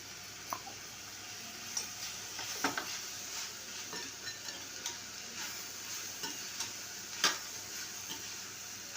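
Chopped ginger and garlic sizzle steadily in a hot pan, with soft stirring scrapes and occasional sharp ticks and clicks of a utensil against the pan, all at low level with no talk.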